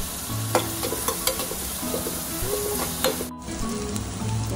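Chilli, turmeric and coarse coriander seeds frying with onions in a pan for vada pav filling, a steady close sizzle with scraping stirs and a short break near the end.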